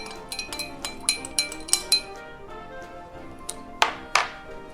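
Bar spoon stirring white rum with bitters in a glass, a series of bright clinks and chimes against the glass at an uneven rhythm, close and clear with quiet pauses between strikes.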